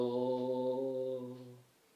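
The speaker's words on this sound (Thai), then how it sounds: "นี่คือเสียงโด ปิดทุกรู" A single sustained recorder tone, the note C played with all holes covered, held steadily for about a second and a half, clear and close, then fading out.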